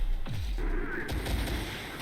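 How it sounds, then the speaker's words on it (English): A Bradley armoured vehicle takes a hit in Terminator Dark Fate Defiance: a deep booming impact, then a few rumbling blasts and crackling debris over steady battle noise. "And bang, the Bradley gets hit"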